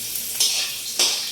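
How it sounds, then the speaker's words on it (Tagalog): Garlic sautéing in hot cooking oil in a home kitchen, a steady high sizzle that swells in two sharp bursts as pieces hit the pan, close and alone with no talking. "At siyempre, igisa sa mantika."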